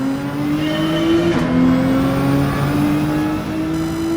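Race cars accelerating off the start on Trial Mountain in Gran Turismo, a GT-R just ahead; a loud, steady, close engine drone rises with throttle and shifts pitch briefly midway, like a gear change, with no talk.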